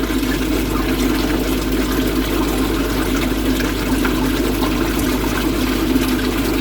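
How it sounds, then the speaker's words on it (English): Algae-laden water from a koi pond rushes steadily down a drain, a continuous close gurgling flow with a constant low hum underneath and no pauses. "You can actually see how much algae is actually flowing. That's going directly down the drain."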